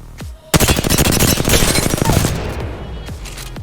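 R-301 rifle firing in Apex Legends: a rapid automatic burst of loud, evenly spaced shots lasting about two seconds, trailing off into echoes, with a few single clicks before and after.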